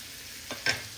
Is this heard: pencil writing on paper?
no